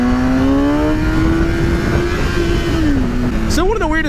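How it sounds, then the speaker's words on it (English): A motorcycle engine holds a steady drone with a slight rise in pitch as it is revved, then swoops up and down in a sharp rev near the end. It is loud and close. "Maybe if I rev it up a little bit, it'll be warmer"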